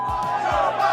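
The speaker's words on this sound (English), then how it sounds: "as you can hear the chants from the crowd" Rally crowd at a 2024 US presidential campaign event chanting together, a loud continuous mass of voices with rhythmic shouted bursts filling the whole moment.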